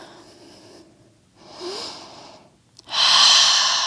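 Heavy breaths during a yoga pose, a soft exhale, a stronger rushing breath, then a loud forceful exhale through the nose near the end, close and alone.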